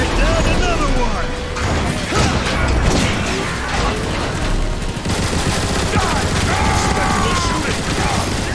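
Heavy automatic gunfire and blasts in the Transformers: War for Cybertron video game, a dense, continuous barrage of shots, crashes and mechanical clatter that stays loud for the whole stretch.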